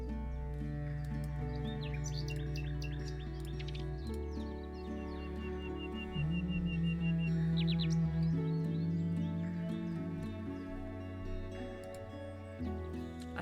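Nightingale song in the Wingspan board game adaptation: quick bright chirps and trills come in short clusters over a soft, sustained musical backdrop, moderately quiet, with no talk.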